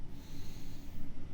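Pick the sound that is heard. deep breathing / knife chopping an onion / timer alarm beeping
deep breathing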